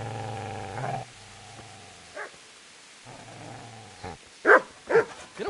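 Dog attacking, with low growls and snarls broken by short pauses, then sharp barks near the end, close and fairly loud.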